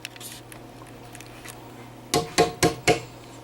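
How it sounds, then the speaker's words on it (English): Four quick knocks on the side of a baking pan holding icing sugar, a dull and fairly loud tapping close by after a quiet stretch with faint handling sounds. "You tap the side of the pan."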